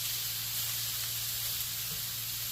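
Fideo noodles fry in a pan with a steady, close hiss and sizzle that holds unbroken throughout.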